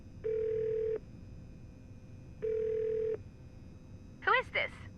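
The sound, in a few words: telephone dialing in the video game Nancy Drew: The Shattered Medallion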